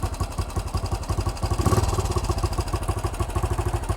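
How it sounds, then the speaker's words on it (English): A motorcycle engine idles on its own carburettor setting after screw adjustment, a steady, loud, close putter of rapid regular firing pulses with a brief swell of clatter midway. "the bike's now running on its own carburettor setting"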